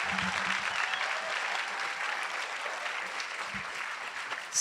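Audience applause welcoming actors Karan Kendrick and Jamie Foxx at the MVFF42 opening-night Q&A for Just Mercy: steady, dense clapping from a large crowd, continuous throughout and ending abruptly.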